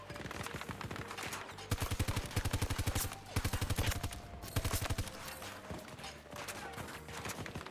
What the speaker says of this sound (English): Like my gun is shooting BBs at them or something